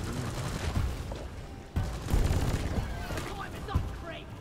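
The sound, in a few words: gunfire in the video game Deep Rock Galactic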